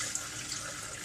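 Vegetable broth pours in a steady, close, continuous liquid rush into a 5- or 8-cup measuring container, with no talking.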